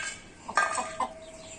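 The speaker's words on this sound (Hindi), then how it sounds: "ये मुर्गी ने चूजे निकालने हैं" A hen clucks on a farm, giving two or three short clucks at moderate distance against quiet outdoor background noise.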